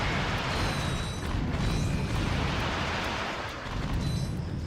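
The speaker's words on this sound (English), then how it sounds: "mercilessly shoot everything that moves with a ridiculously overpowered rocket launcher" Rocket launcher blasts in the video game Ratchet & Clank merge into a dense, continuous roar of explosions and booms, loud and sustained with no talk.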